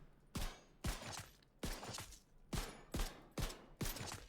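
Teammates open fire in the video game The Division 2, seven or eight sharp gunshot bursts in an even, rapid rhythm at moderate loudness, with no talking over them.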